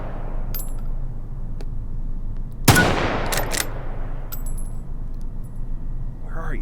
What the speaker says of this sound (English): Stroked the bolt there.